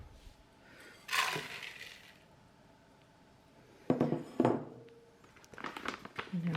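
Mixing bowls holding rolled oats and chickpea flour are swapped for a bigger bowl on a kitchen bench, giving a few close, sharp clinks and knocks separated by quiet pauses.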